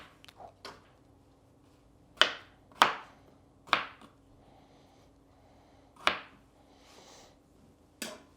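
A knife chops potatoes into pieces on a cutting board, giving sharp, crisp knocks at irregular intervals, several close together, then a pause, then single cuts.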